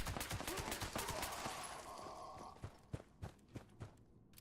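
An alien energy weapon in the video game Fallout 76 firing a burst of sharp shots, followed by several separate loud cracks with short gaps between them over game ambience.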